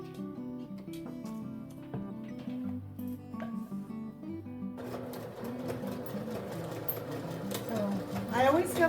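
Domestic sewing machine stitching fabric for insulated Roman blinds, a fast mechanical whir that runs steadily, then turns busier and louder halfway through as the stitching continues.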